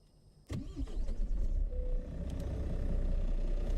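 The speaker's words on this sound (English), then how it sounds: "Alright, the truck is up and running." A truck engine in American Truck Simulator cranks and fires with a sudden burst, then settles into a steady, close rumbling idle that holds for several seconds.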